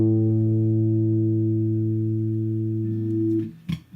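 A guitar's A string rings out as a sustained tuning reference note, steady and loud for over three seconds before being cut off by a brief muted knock.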